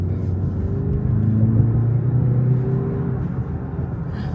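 Car in Sport Plus mode accelerating onto a highway, a steady loud engine drone with rising tonal hum and low rumble heard from inside the cabin, no talking.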